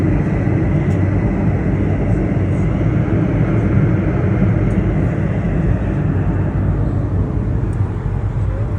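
Steady broadband roar of a Breeze Airways airliner cabin in cruise flight, a dense low rumble and engine drone holding constant throughout with no speech.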